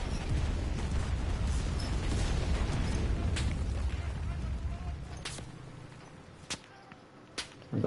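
Gunfire from an enemy shooter in a war video game, loud rumbling blasts at first that fade into a few sharp, isolated cracks spaced apart near the end, with a voice talking over part of it.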